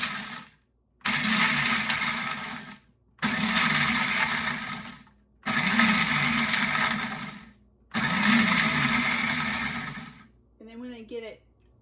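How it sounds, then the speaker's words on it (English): A kitchen grinder chops about a cup of dried garlic chips into powder, running in four loud pulses of roughly two seconds each with short gaps, then a brief clattering rattle at the end. "I usually grind up about 1 cup of garlic chips at a time till it's even"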